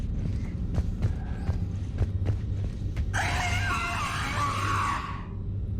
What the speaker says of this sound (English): push button, head screams